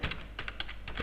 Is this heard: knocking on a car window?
no